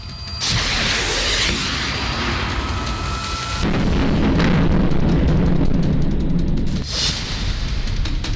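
Loud, sustained roaring blasts of an attack in Ukraine during the Russia conflict, with rumbling low end, one surge around the middle and another sharp burst near the end, no voices.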